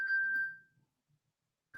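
A mobile phone left behind in a house rings with a single clear electronic tone that fades within a second, then starts again briefly at the end, fairly faint and heard alone.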